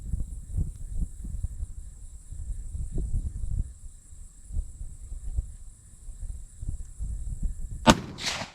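A shotgun fires one sharp, loud report of number 4 Federal Speed Shock shot near the end, following a stretch of low rumbling handling noise and wind, outdoors while sighting in for coyote hunting.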